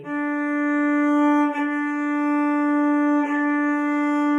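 One open D string bowed on a violin, a long even tone with two quick bow changes breaking it, played up close with no voices.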